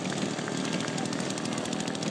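A scale model aircraft drones overhead on its landing approach, a steady loud buzzing engine note with a faint rising whine, heard throughout without clear talking.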